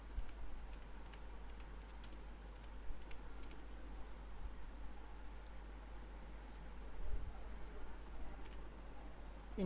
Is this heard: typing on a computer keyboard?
yes